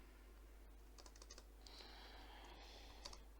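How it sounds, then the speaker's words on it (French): Keystrokes on a computer keyboard while coding a C program, a quick burst of clicks followed by steadier typing, close and fairly quiet against a low room hum. "Je vais d'abord taper, vous allez voir."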